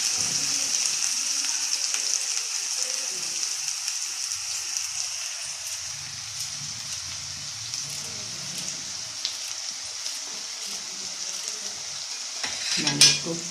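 A freshly ground spice paste sizzles in a hot pan for an eggplant and radish curry, a steady close crackle with occasional soft stirring scrapes and a sharp clink near the end.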